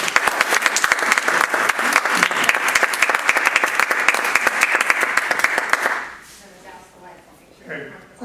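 An audience bursts into sustained, loud applause to welcome a speaker at a presentation on greenmarkets, the dense clapping running steadily for several seconds before dropping away abruptly into quiet room sound and a voice.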